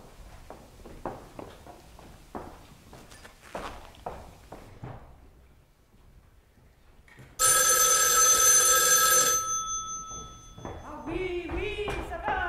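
A telephone bell rings loudly for about two seconds on a theatre stage during a play, following a stretch of footsteps and movement, with a voice answering afterward.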